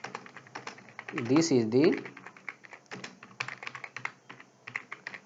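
Rapid clicking keystrokes on a computer keyboard, steady and close, typed continuously while someone speaks briefly over the clatter.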